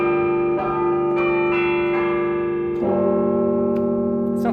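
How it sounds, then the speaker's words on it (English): Carillon-style chimes from a huge pipe organ's TrueCast MIDI module ring out in sustained, overlapping bell tones, several strikes layering and decaying into a loud harmonic wash. "It sounds like a real carillon."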